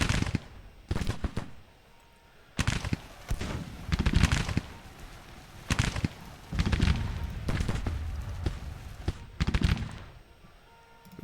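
Battle gunfire in a Civil War strategy game set in spring 1862: repeated bursts of rifle volleys and scattered shots, loud and close, coming in clustered waves with short lulls between them.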